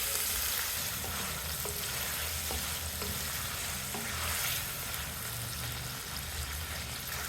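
Mutton keema frying in oil over a medium flame until light brown, a constant dense sizzle with occasional stirring scrapes in the pan, close and loud.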